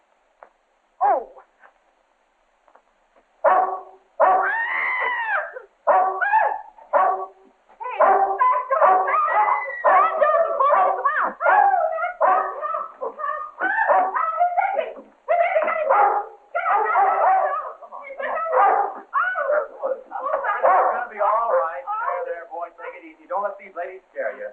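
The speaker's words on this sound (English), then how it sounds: "Bessie, take that dog out and tie it up" A small dog barks and yips repeatedly in an indoor scene, its sharp cries mixed with near-continuous excited talk from several women.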